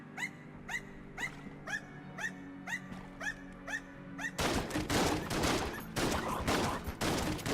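Dog in Enter the Gungeon barking repeatedly at mimics, a steady run of sharp in-game barks that gives way to a loud, dense burst of rapid gunfire.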